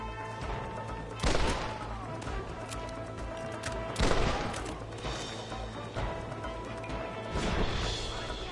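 Gunfire from enemies on top of a cliff in the Red Dead Redemption video game, scattered loud gunshots and crashes over constant background game music and ambience, with several heavier bursts spaced a few seconds apart.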